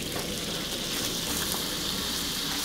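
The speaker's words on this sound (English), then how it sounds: "Let it sizzle." Pork hitting hot oil to sear, a steady broadband sizzle and crackle holding even and close from start to finish, with no talking over it.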